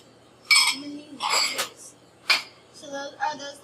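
Ceramic ramekin dishes clink and knock together in a few short, bright bursts in a kitchen, spaced unevenly, with brief murmurs of talk between them.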